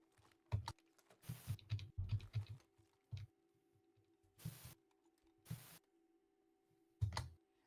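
Bursts of clicky key presses on a stiff computer keyboard, clustered into short runs of rapid typing separated by pauses and a few isolated louder clacks, close and fairly quiet.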